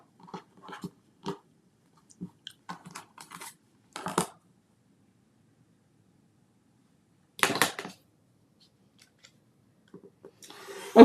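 Scissors snip through fabric carrot pieces during a sewing session, giving short crisp cutting bursts in scattered clusters with quiet gaps, close and fairly soft.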